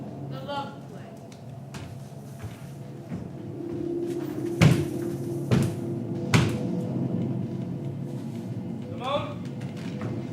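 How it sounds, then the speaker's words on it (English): Three sharp knocks land on a door during a staged school theatre performance, spaced about a second apart against a steady hall murmur. "Who was that knocking at the door?"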